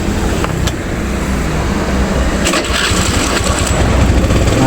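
A 2012 Honda BeAT scooter starts on the first try and settles into a loud, steady idle, close by. Outdoor background noise sits underneath and there is no talk.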